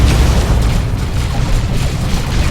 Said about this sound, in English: Purification vials going off.